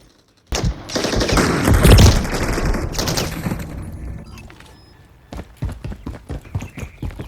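CMMG MkG 4.6 Banshee submachine gun in Call of Duty Modern Warfare III fires a loud, rapid automatic burst lasting a few seconds, then trails off into scattered separate shots.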